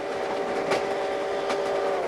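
Train rolling along rails with a steady broadband rumble and a sustained tonal hum, plus a couple of sharp clacks, loud and continuous.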